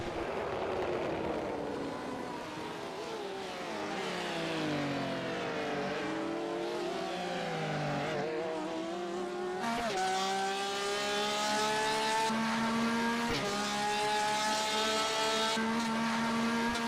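A Porsche race car, number 37, roars past at the 24 Hours of Le Mans, its engine note rising and falling through gear changes as it sweeps by, loud and sustained with strong harmonic whine.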